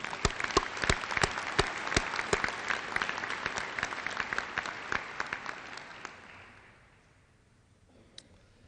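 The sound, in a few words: audience applauding graduating engineering students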